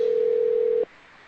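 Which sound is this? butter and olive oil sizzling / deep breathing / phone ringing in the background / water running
phone ringing in the background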